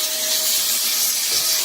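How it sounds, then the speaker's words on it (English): A shop vacuum sucks up leftover bits of silicone caulk from a bathtub edge, a loud steady hissing rush of air with a thin tonal whine, close and unbroken, no voices. "We're going to do a quick vacuum"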